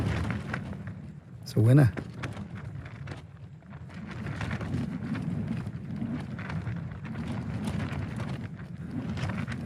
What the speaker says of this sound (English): That wind's picking up a little bit, I don't know if you can hear it.